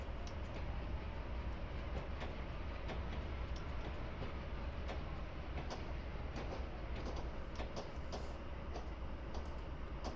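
Freight train rolling along the tracks in reverse in a railroad game set at Cajon Pass, a steady dense rumble with faint rhythmic clicking of wheels over rail joints throughout, no talk.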